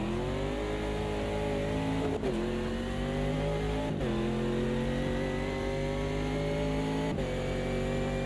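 A race car engine in a sim racing game, droning steadily at high revs with sharp dips at each gear shift, three shifts, loud and continuous with no talk.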